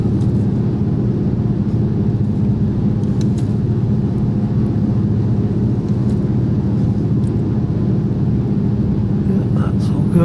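Airplane on final approach to land, configured for landing, a steady loud engine and airframe rumble filling the cabin throughout with no break.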